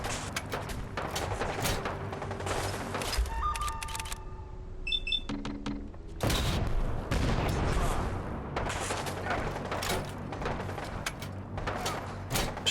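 Gunfire in a Fallout 4 firefight: bursts of shots and booming hits come in clusters and keep going throughout, loud and close, mixed with other game sounds and occasional speech.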